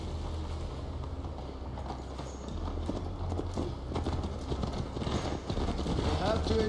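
Horse hooves clip-clopping on a ride in Assassin's Creed Valhalla, a steady rapid trotting rhythm, close and continuous, with speech in the background over the hoofbeats.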